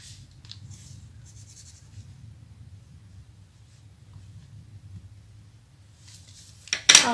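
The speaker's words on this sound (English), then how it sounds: "Now you can draw your own face." Faint marker or pen strokes on origami paper while drawing a face on a paper Santa, a few soft squeaky scribbles early on over quiet room hum, ending with a louder paper rustle.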